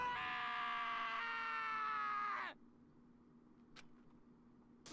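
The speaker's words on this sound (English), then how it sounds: "Taka's sad screams invade our skulls" Taka from the Danganronpa video game lets out a long, loud, anguished scream that holds steady for about two and a half seconds before cutting off abruptly into near silence.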